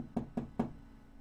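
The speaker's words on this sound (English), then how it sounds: "you hear a quick knock on the door" Three quick, crisp knocks on a wooden door, evenly spaced and close, play as a sound effect in a tabletop roleplaying game session, followed by a faint hum and then quiet.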